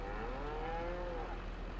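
Cattle in the video game Farming Simulator 22 moo in one long, wavering low call held for over a second, steady and fairly close over a constant low background hum, with no talking.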